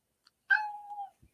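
A cat gives one clear, drawn-out meow that falls in pitch, heard alone in silence with a faint click before it and a soft thump after.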